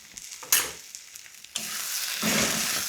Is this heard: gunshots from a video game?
no